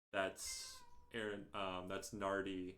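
A pet cat meows in a room while someone talks over it, its drawn-out cries mixing with the speech and sounding near and fairly clear.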